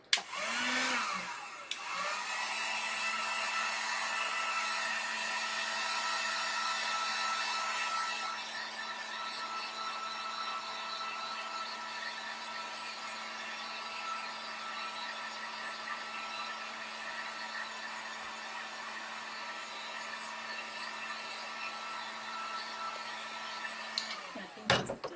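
A hair dryer blows on handmade craft pieces, a steady loud whooshing roar with a constant motor hum that runs unbroken for the whole stretch, easing slightly in intensity partway through before cutting off at the end.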